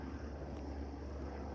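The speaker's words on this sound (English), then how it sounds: "And then there's the plane I was talking about." An airplane passes overhead outdoors near a Halloween haunted house display, a steady, low, broadband engine rumble that holds at a fairly constant level throughout.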